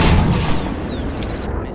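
A tank cannon firing in the armoured combat game Armoured Warfare, a loud, close, low booming blast with a rumbling tail that fades over the clip, no talk.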